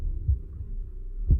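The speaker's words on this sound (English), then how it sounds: "Oh, heartbeat! That's inside of 10 feet." A heartbeat sound effect from the WGT golf video game: low, soft thumps spaced about a second apart over a faint hum.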